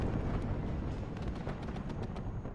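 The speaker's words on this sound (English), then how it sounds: "Another cluster bomber coming in. Has killed a tank, I think," Rolling cluster bomb explosions in the war game WARNO, a dense, continuous rumble of overlapping blasts with scattered sharper cracks, loud and sustained throughout.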